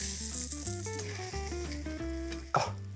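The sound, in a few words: fish frying skin-side down in a pan, sizzling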